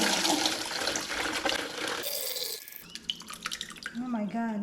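Homemade passion fruit juice sweetened with honey, poured into a pitcher, a steady gushing stream that ends in dripping and splashing, with a voice speaking over the final moments.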